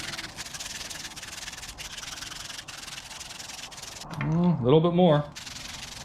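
Sandpaper rubs an engine part smooth during an air-cooled 1760cc stroker engine build, with steady scratchy back-and-forth strokes up close and someone speaking briefly near the end.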